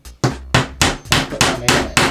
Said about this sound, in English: Get my hammer, and the paneling nail